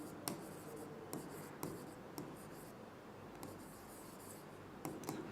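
Pen strokes scratching across paper during a probability lesson, irregular short scrapes and taps near the microphone with quiet pauses between them, no speech.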